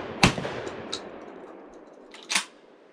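Two loud shotgun blasts from a Charles Daly 601 DPS semi-automatic firing Winchester shells outdoors, each a sharp crack with a decaying echo, about two seconds apart, plus a fainter pop between them.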